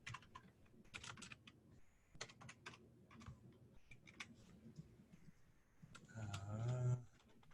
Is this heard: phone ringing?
no